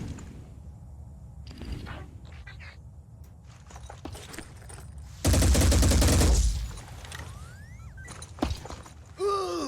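Gunfire rattles in the tactical video game Phoenix Point: Corrupted Horizons, with scattered shots and clatters giving way to a sustained loud burst of automatic fire about a second long, then lighter effects and a final sharp blast.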